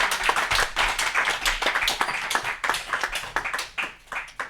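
A church congregation claps steadily and loudly in a fast, ragged rhythm, many hands together filling the room with continuous applause-like beats and no voices on top.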